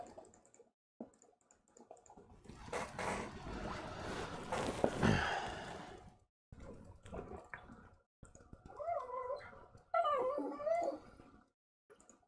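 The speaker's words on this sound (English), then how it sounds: "my dog Rocky is complaining about something" Rocky, a pet dog, whines and whimpers in short high-pitched bursts near the end, preceded by rustling and louder household noise, heard alone without talk.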